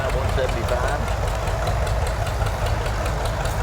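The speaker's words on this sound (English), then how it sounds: "Sound like a big tractor, don't it?" A 1985 Allis-Chalmers 6060 tractor rolling by in a small-town parade, its engine a steady, rumbling idle heard nearby, with an announcer talking over it throughout.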